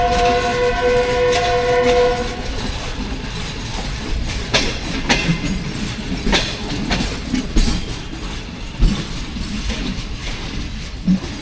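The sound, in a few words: Rawal Express train passing in dense fog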